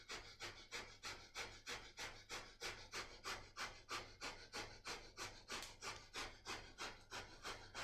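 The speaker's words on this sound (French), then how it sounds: "Et respiration du feu dans la posture" Breath of fire in Kundalini yoga, rapid rhythmic breathing held in a posture, with about two sharp, even exhalations per second, close and steady, with no talking.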